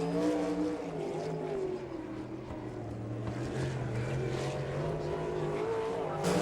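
A non-wing 305 sprint car howls around a dirt oval on a qualifying lap, its engine note rising and falling continuously. The sound is loud and moderately close with no voices over it.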